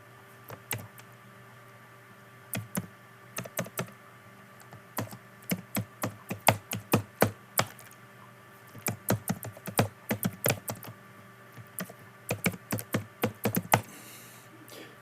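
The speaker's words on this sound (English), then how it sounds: "So I'm going to type" Someone typing on a computer keyboard in irregular bursts of sharp, close clicks separated by short pauses, with no talking.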